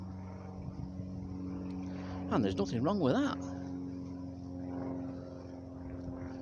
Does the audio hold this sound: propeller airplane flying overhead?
yes